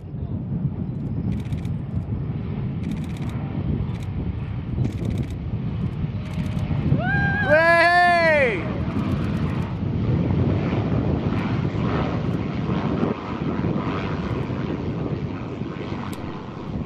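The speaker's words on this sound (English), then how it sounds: "The small aircraft came into sight at about 25 to 1, and after two flybys finally touched down at 1:50 p.m. at the St. Helena Airport" A small aircraft landing at St Helena Airport, a rising and falling engine whine with a clear Doppler sweep as it passes, heard over strong wind buffeting the microphone and a constant roaring background.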